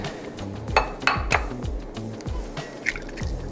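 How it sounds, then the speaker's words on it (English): Eggs are cracked and beaten in a bowl in a home kitchen, giving a series of close clinks, taps and liquid sloshes at an irregular rhythm with no talking. "While I'm doing that, I'm going to beat some eggs."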